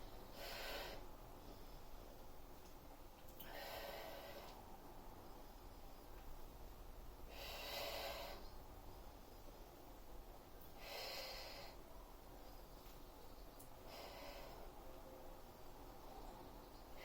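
Slow, controlled exhalations during a Pilates exercise, five soft breathy bursts spaced a few seconds apart over a steady low hum of room noise.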